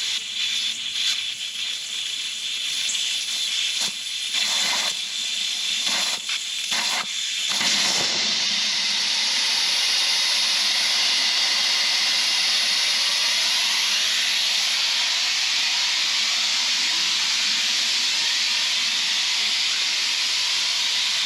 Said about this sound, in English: that lets us deflate it in a safe and controlled manner